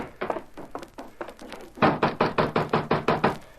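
Knocking on a ranch house door, a few loose raps followed by a steady run of about a dozen firm, evenly spaced wooden knocks, close and loud with no talking.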